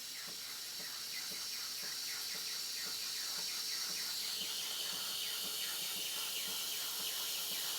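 A steam wand froths milk in a jug for a hot cinnamon dolce white mocha, giving a steady, close hiss that runs throughout and brightens slightly partway through.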